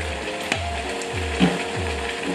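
A pepper mill grinding black pepper, close and loud, with rhythmic ratcheting clicks in several quick twist strokes over a couple of seconds, no voices.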